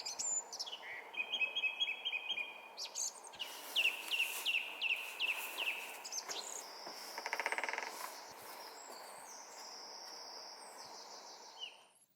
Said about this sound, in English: And this is the greater spotted woodpecker,